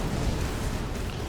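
A ship's blast explodes in a sci-fi video game, heard as a dense, sustained, loud rumbling roar without clear separate hits.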